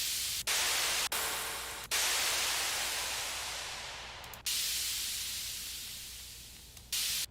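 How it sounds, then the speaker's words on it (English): A noisy cymbal sample from a basic FL Studio sample pack plays as loud, bright, hissing washes, several long decaying hits separated by brief cutoffs, with no one speaking. "This one, just a little noisy cymbal here."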